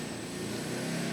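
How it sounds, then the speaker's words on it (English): A nearby lawnmower engine drones steadily outdoors, a continuous buzzing hum with no break across the brief moment. "Sorry about that lawnmower noise"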